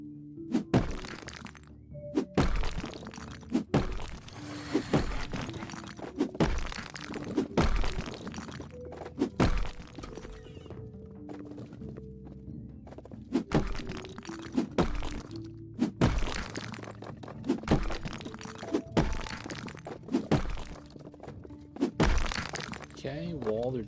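Walls smashed in House Flipper with a sledgehammer-like tool, repeated heavy thuds and cracking crashes at irregular intervals, near and loud, with a person talking between blows.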